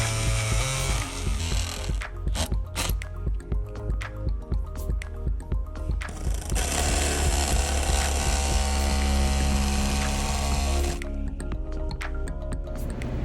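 Power tool blade cutting through painted RV fiberglass, a loud close grinding whine in sustained passes broken by a stretch of rhythmic stuttering cuts, with no speech.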